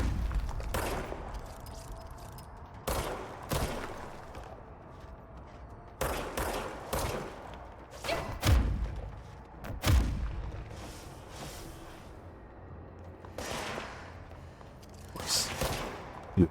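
Gunfire in the video game Control comes in repeated bursts of rapid shots and heavy booms, loud and close, with pauses between volleys.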